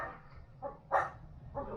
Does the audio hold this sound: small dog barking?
yes